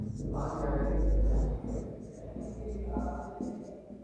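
Chalk or marker scratches across a classroom board while a teacher explains fractions, short strokes of writing under and between quiet speech.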